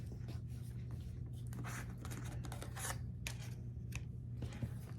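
Quilt fabric pieces being cut corner to corner, likely with a rotary cutter, as a series of soft scraping, rasping strokes at close range over a low steady hum, with no talk.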